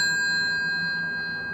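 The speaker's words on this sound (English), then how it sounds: "I will now dial on the black one, and the red one rings." An old red GEC telephone, a Muraphone, rings with a bright, sustained metallic bell tone that fades gradually over a moment, heard close up and alone.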